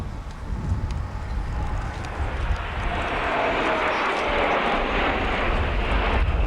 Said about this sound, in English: Vulcan formation now